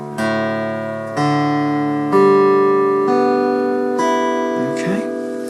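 The open low string of a guitar, tuned down from E to D, is plucked about five times in slow succession. Each deep note rings clearly and decays before the next pluck, with no voice over it.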